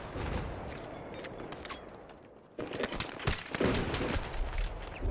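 Rapid-fire gunfire in Battlefield 3 on PS3, dense bursts of close shots that fade, then a louder volley resumes after a brief lull.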